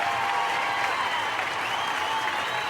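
Steady applause from a crowd, sustained and fairly even throughout, with no voices rising above it.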